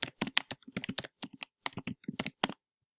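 Computer keyboard keys tapped out in a quick, irregular run of close, crisp clicks while a search for an online bootcamp is typed, then stopping abruptly.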